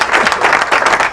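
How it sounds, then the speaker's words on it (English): A radio show's studio audience applauds in a brief, steady burst of dense clapping that stays close and loud throughout. "Applause."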